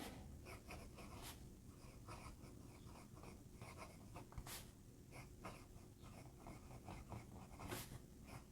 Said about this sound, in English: Do a quick writing sample for you guys.